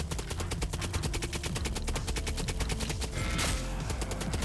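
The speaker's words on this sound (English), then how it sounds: "I have these head-mounted Gatling guns that are not great, but they do have infinite ammo" Head-mounted Gatling guns on a mech in the Gearbits video game fire a long, rapid, evenly spaced burst of loud shots with no pauses, the stream running throughout.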